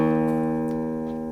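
A low E string on a guitar, tuned too low, is plucked once and rings as a steady, slightly flat tone that slowly fades, close and clear with no voice over it.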